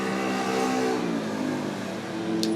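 A small moped drives past the house, a steady buzzing engine holding for a couple of seconds before easing off, with a brief faint high click near the end.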